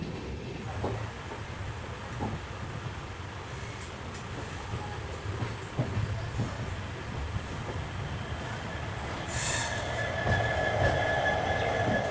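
A long-distance passenger train pulls into Shri Ganganagar Junction, its heavy wheels rumbling and clanking steadily on the rails, building slightly with a faint high wheel squeal near the end.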